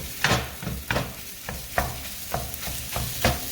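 Sausage sizzling in a pan while being stirred, a steady soft fry broken by regular scraping strokes about every half second, close and alone.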